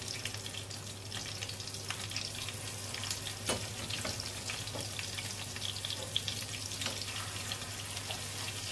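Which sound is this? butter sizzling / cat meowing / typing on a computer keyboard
butter sizzling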